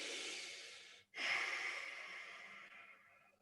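A slow, deep breath during a sunrise yoga session: a long airy exhale, a short pause, then a full breath drawn in and gradually fading, close and quiet with no talking.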